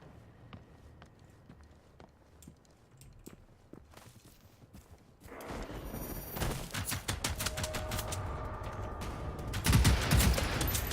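Rapid bursts of gunfire from the video game Generation Zero, starting quietly and then growing into loud sustained shooting over the second half, with no talking.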